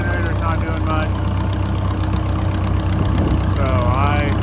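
A Massey Ferguson 180LP tractor engine idles after sitting for 35 years. It makes a steady, close, low rumble that runs throughout, with faint voices over it at times.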